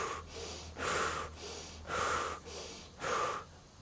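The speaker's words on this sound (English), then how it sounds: "Keep that going, keep doing the breath of fire" Rapid, forceful rhythmic breathing in a breath of fire exercise, five loud huffs about two-thirds of a second apart, close and alone with no talk.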